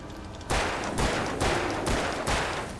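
Five loud, sharp gunshots ring out at a steady rhythm, each a broadband blast with a short decaying tail, as a weapon fires in the video game Alan Wake Remastered.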